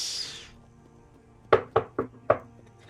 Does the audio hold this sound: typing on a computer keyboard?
no